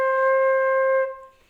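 A single sustained flute note C, clear and steady for about a second before fading out, played alone and close with no talking.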